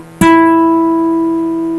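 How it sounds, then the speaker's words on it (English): Single plucked guitar note on the third string at the ninth fret, one clean attack followed by a long, steadily fading sustain, close and clear with nothing else heard. "the 3rd string is being played on the"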